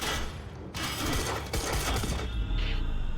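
Video game gunfire in a shooter: rapid, dense, loud shots in continuous bursts with sharp cracks and booming low rumble throughout, no talk.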